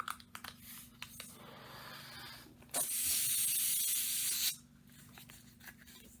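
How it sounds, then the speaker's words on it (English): Air escaping from a released balloon, a steady loud hiss lasting almost two seconds after some soft rubbing and handling noises, close with no talk. "You can blow the balloon up and release the air"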